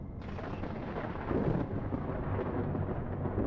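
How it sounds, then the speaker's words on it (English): A thunderstorm rumbles in the video game Space Engineers, a deep, continuous roll of thunder that swells louder partway through and stays heavy and close to the end, with no voices. "So we got a thunderstorm in."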